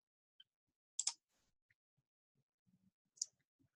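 Mouse clicks while confirming an OK button in Excel's page setup dialog: a quick double click near one second, then a single sharp click later, with faint scattered handling noises between.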